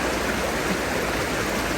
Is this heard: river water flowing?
yes